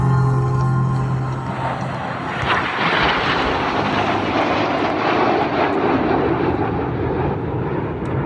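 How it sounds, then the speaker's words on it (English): Royal Air Force Red Arrows jets fly past overhead, a loud, steady jet roar that swells and washes across the whole clip, with no voices heard. "That's the 4 jets that park to the left."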